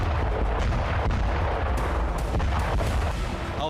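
Cluster bomb strikes during the Russia–Ukraine war near Avdiivka: a dense, continuous barrage of booming blasts and crackling detonations, loud and unbroken throughout with sharper bursts rising from the rumble.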